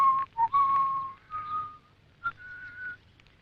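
A person whistles a short tune, clear and close: several sustained, pure notes with small pitch slides, pausing briefly between phrases in a quiet setting.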